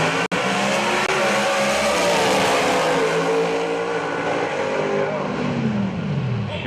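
A 632-cubic-inch Chevy drag race car makes a pass at Maryland International Raceway, a loud, sustained engine roar with shifting pitch filling the whole stretch, crowd and track ambience behind it.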